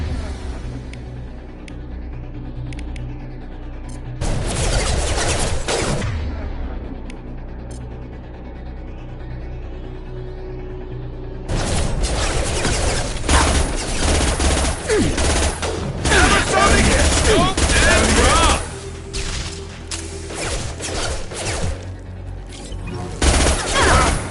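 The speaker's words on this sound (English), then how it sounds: "Firing concussive shot!" Concussive shot gunfire in a video game, heavy bursts of rapid shots and booming impacts arriving in two long volleys separated by a quieter stretch of mechanical hum, loud and close.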